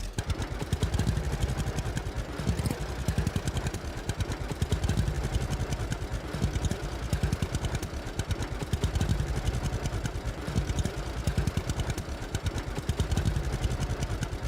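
Farm tractor engine in Farmer's Dynasty 2, rumbling steadily as it drives along with a continuous chugging clatter, loud and close with no talking.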